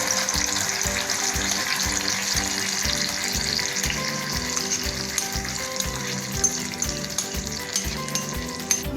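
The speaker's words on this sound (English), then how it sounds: "I am now adding my gravy and I am going to fry it a little bit" Gravy for malai methi matar fries in a pan with a steady, close sizzle and bubbling, joined by rhythmic stirring scrapes, with no talking.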